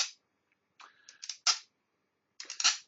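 A metal bolt scraped across a surface to mimic bearing damage in machine fault diagnosis, heard as short, close scratchy strokes in small clusters separated by silent gaps, with no talking.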